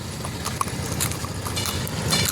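A horse being walked after riding clip-clops across the ground at an outdoor fair, with a steady, moderately close hoof rhythm under a busy crowd murmur.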